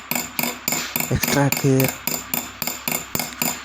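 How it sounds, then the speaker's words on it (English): Small hammer taps punching metal toward set stones in jewelry stone fitting, a steady rhythm of sharp close metallic strikes at about three per second, with a brief spoken phrase partway through. "when we punch and hammer the metal towards the stones"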